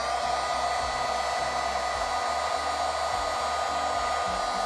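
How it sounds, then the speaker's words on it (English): A heat tool blows on a bubble in clear waterslide decal during alcohol ink work, a loud, continuous whooshing roar like a hair dryer held close, with a faint low pulsing hum beneath it. "You're going to use your heat tool"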